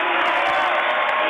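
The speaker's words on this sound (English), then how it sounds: "this Crawley Center crowd comes to its feet, cheering on the Broncos" A home basketball crowd in the Crawley Center gym roars and cheers for the Broncos at a high school boys' game, a loud, dense wall of voices rising to its feet.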